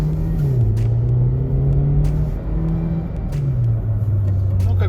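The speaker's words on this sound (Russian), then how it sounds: "Хотел показать вам такой режим разгона, когда вот он идет с нуля." Hyundai Ioniq with a dual-clutch DSG gearbox pulling away from a standstill, a low steady engine drone heard from inside the cabin that steps up in pitch and drops back with each gear change, with faint clicks.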